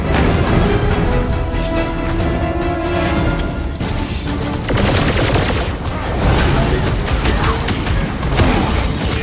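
Sniper gunfire in the video game Marvel's Guardians of the Galaxy: loud, dense bursts of shots and crashing impacts that run continuously through a chaotic battle, with no talk.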